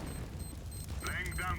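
A fire grenade goes off in Counter-Strike: Global Offensive as a rumbling, eruptive burst of flame under ongoing game noise, with voices talking over the latter half.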